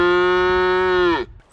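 A single long, loud cow moo holds a steady pitch before dropping and cutting off, with no voices.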